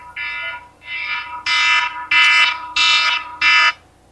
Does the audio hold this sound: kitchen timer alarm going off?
yes